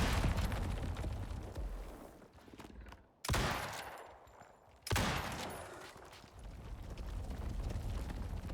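Gunfire in the video game Icarus crackles in dense, loud bursts, broken by two brief lulls before sharp renewed volleys.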